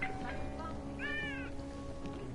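A cat in the video game Deus Ex: Mankind Divided gives a short meow and then a longer, wavering one, fairly faint over a steady ambient hum.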